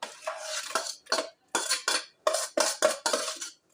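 A spoon repeatedly clanks and scrapes as an onion mixture goes into a cooking pot with a little vegetable oil, in about eight quick bursts separated by short gaps, close and fairly loud.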